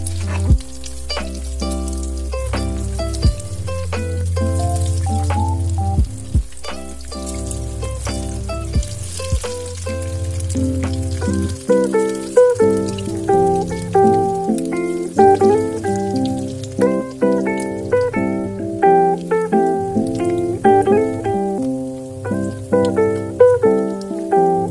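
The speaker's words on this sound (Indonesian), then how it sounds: "Kita akan goreng perkedelnya hingga matang, hingga warnanya coklat keemasan." Corn and tuna perkedel fritters, dipped in egg, frying in hot oil with a steady close sizzle and frequent crisp pops and crackles throughout, no talking.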